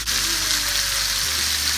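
Chicken pieces for honey garlic chicken fry in a pan, giving a steady close hiss and crackle of hot oil that goes on without a break and with no talking.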